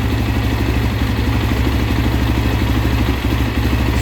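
A stock Suzuki DRZ400E single-cylinder motorcycle engine idles loud and close, a steady rapid chugging thump with mechanical clatter, running out of the frame on its own for a few seconds.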